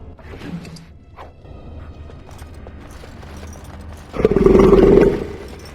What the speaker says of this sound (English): I don't know if I like that growl.